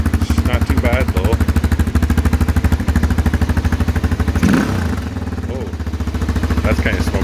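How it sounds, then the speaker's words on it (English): A Honda XR400 dirt bike, just started after sitting for two years and smoking a little, runs with a loud, pulsing idle and revs up and down close by. "You're not really supposed to rev these bikes when you first start them up"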